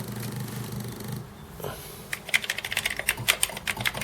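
Keys pressed on an Atari 65XE home computer keyboard during repair: a quiet lead-in, then a close, irregular run of sharp plastic clicks and taps through the second half, with no voices.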